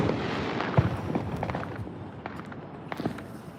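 Fireworks mortars launched from tubes at an outdoor Fourth of July celebration, giving a rapid string of sharp pops and crackling bursts, some near and some farther off, with no talk.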